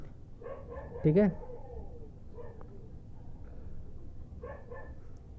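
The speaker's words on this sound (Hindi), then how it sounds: "और एक तो आजू बाजू में कुत्ते लोग भौंकते रहते हैं" Dogs bark near a room where a Panasonic 32-inch LED TV is being repaired. A few short, scattered yaps rise above steady background noise and a voice speaking briefly.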